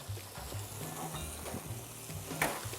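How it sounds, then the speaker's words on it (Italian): Fish bones sizzling and toasting in a hot pan with cherry tomatoes, a steady crackling fry with occasional stirring clatter and no voices. "Facciamo tostare ancora un paio di minuti in modo che vengano fuori tutti i sapori"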